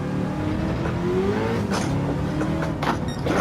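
A D1 drift car engine roars continuously in Gran Turismo 7, loud and close, with revs climbing and falling through the gears and faint tire squeal mixed in.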